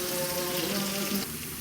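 Onions sizzle steadily in hot oil in a pan, a continuous soft frying hiss heard close up with no talk.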